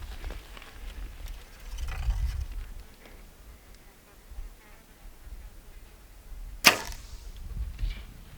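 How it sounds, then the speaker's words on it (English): An archery arrow shot during a mule deer hunt in Oregon strikes rocks with one sharp, brief crack, set in faint outdoor background with soft rustling and a low thump earlier. "I just took a shot and I don't think I hit him. I heard arrow hit rocks."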